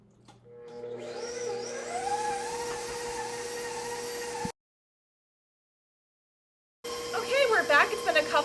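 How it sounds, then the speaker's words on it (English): A stand mixer whirs steadily at medium speed 4, beating peanut butter Italian meringue buttercream, a continuous motor hum with a high whine that cuts out to silence and then resumes with a rougher, fluttering churn. "I'm going to turn my mixer on to a level 4. And let's get mixing."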